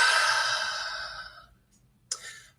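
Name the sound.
big deep breath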